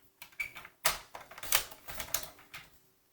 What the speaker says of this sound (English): we're going to take this right here, our scoring cutter, and we're just going to trim that off